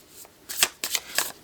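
Tarot of Oneness tarot cards shuffled close up in three quick riffling bursts, each a crisp papery flutter separated by short pauses, with no talking.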